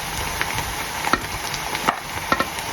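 Chopped boiled stomach sautéed in a pan for goto: steady sizzling and frying hiss, with several sharp stirring scrapes and clicks of a utensil at irregular intervals, close up.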